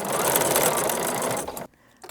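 Sewing machine running steadily while stitching quilt binding at an unusual angle, a dense continuous whir close up for about a second and a half before stopping abruptly into near silence.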